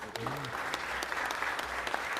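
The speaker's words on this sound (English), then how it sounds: "give it one round of applause for the Bernstein champions of this year" A crowd claps steadily for the Bernstein boys basketball champions at a Los Angeles City Council meeting, sustained dense applause with some voices underneath throughout.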